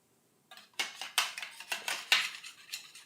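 A spatula scraping and knocking against a pan while loosening stuck jerk meatballs: a quick series of sharp metallic scrapes and clicks in an irregular rhythm, close and fairly quiet, with no talking.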